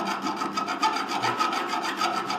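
A hand file rasps over the rough edges of a steel gun part in rhythmic back-and-forth strokes, close and fairly loud, then stops abruptly.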